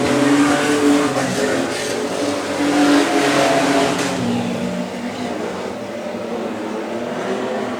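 Street stock race cars roar past on a track, their engines loud and revving as they swell close and then fade into a steady rumble, with a commentator talking over them.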